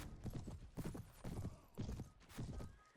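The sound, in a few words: horse galloping in Perisno Warband mod video game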